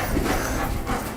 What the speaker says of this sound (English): Eli, we believe, is possibly a Husky German Shepherd mix